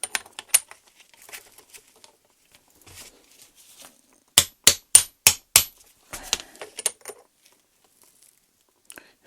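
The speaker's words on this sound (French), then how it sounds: "Je pense que je vais devoir taper dessus un peu." Metal tapping on the power steering rack piston of a BMW E30: a run of five sharp, evenly spaced hammer strikes, close and loud, with lighter clinks and taps before and after in a quiet workshop.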